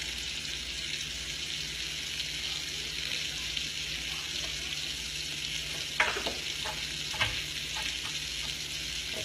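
Scallops sear in a hot pan for scallops and grits, a steady dense sizzle throughout with a couple of louder sputters and clinks as pieces are turned.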